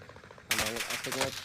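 Rapid bursts of gunfire in a Call of Duty Rebirth Island esports semi-final, crackling shots starting abruptly and continuing under an excited commentator talking over the action.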